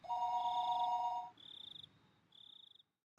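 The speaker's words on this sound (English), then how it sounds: "the phone began to ring again" A telephone rings in Higurashi When They Cry Hou, an electronic trill that shifts into two shorter, higher buzzing pulses, clear and close against a quiet background.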